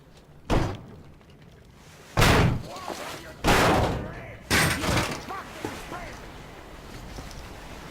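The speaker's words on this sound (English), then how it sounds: "The door's giving. Let's give it a shove," Heavy door in Metro Exodus shoved open in several loud, separate thuds and slams, each a hard impact with a short rattling tail, with a voice heard between them.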